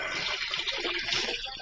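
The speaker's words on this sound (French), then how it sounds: "je me fais couler de l'eau pour ma bouilloire" Tap water runs steadily into a kettle, a close, continuous splashing and gurgling stream with no pauses.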